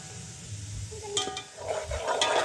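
Spices, red chilli and garlic fry in oil in a pan for sabzi pulao, with a soft steady sizzle and a few stirring scrapes and clinks of a spoon against the pan.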